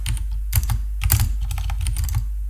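Rapid clatter of keys on a computer keyboard, close and steady, with bursts of quick strokes and short pauses, no voices.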